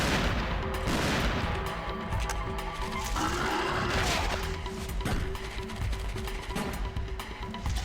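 Gunfire in the hunting game Cabela's Dangerous Hunts 2, loud shots cracking in an irregular series against a busy in-game soundscape with animal noises, no talk.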